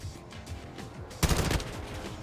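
Call of Duty Modern Warfare II gunfire: a sudden loud burst of rapid shots lasting about a third of a second, then a quieter rattle over steady game background noise.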